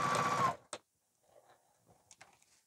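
A sewing machine stitching down the side of a piece of fabric runs in a short, loud burst of motor whir, then falls quiet apart from faint clicks and small handling noises.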